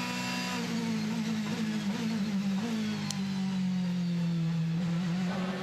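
Onboard a DTM race car at Spielberg in 2015, the engine drones loud and steady with a strong low tone that shifts slightly in pitch as the car runs downhill. It fills the whole moment with no break.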